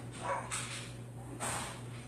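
A dog barks in a few faint, separate bursts from somewhat far away, frightened by fireworks, over a steady low hum in an indoor room.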